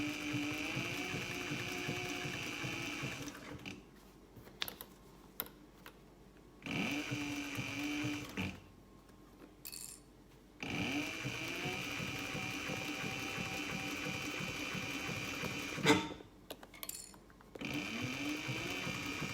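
A sewing machine stitches a 3/8 inch seam on a tote bag in several bursts of rapid, steady mechanical whirring, separated by short pauses, close and fairly quiet.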